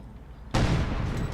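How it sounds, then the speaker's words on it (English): A burst of submachine gun fire in the real-time strategy game Company of Heroes 2 breaks in abruptly, a loud, dense rattle of shots that holds steady for under a second after a quieter stretch. "But very potent and effective submachine gun."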